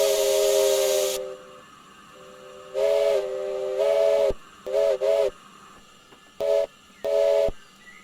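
Steam locomotive whistle from a Neilson box tank engine in Train Simulator Classic, blown loudly in a long opening blast and then a series of short and medium toots, each ending in an abrupt cut-off with no fade.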